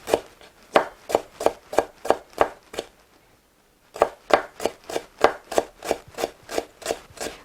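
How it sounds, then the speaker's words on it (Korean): A knife minces ginseng roots on a board in a fast, steady run of close, sharp taps. It stops for about a second, then carries on at the same even pace. "요런 거는 다 다져서 다시 다 들어갑니다"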